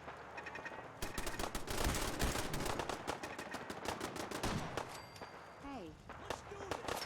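Rapid bursts of gunfire in Fallout 4, dense volleys of sharp cracks close up, with brief gaps between bursts and voices talking under and between the shots.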